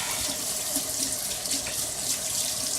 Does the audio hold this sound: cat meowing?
no